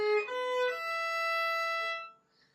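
A violin bowed on the open E string rings out with a bright, thin sustained tone, one clear note fading after about two seconds in a quiet room.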